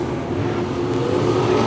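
Race cars run on a circuit, their engines a loud, continuous roar with revving and a passing whoosh.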